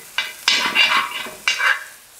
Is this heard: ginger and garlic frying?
yes